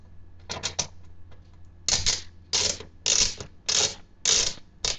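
A screwdriver drives a screw into a computer case, making a series of short ratcheting clicks and grinding turns in separate bursts, close and fairly quiet.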